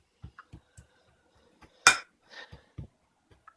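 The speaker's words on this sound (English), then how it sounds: "So now we just flatten it all out neatly into the pan." A dessert mixture with Skor chiplets is pressed flat into a pan with soft, close taps and thuds, spaced a few at a time, plus one sharper clatter of a utensil against the pan near the middle.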